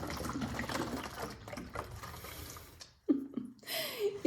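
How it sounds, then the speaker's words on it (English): Water gurgling and glugging as it forces its way down from one connected plastic bottle into another, a murky churning wash broken by a few sharp bubbly gulps near the end. "all of that water in the top is trying to force its way down to the bottom"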